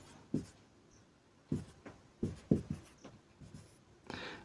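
Chalk or marker strokes on a board in short scratchy bursts of irregular rhythm, close and fairly clear against a quiet room.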